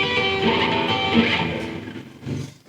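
Electric guitar sliding up the B string: sustained, bright, slightly gritty notes bending in pitch over nearly three seconds, with no voice over them.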